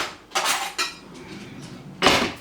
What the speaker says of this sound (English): And then you want to just grab a knife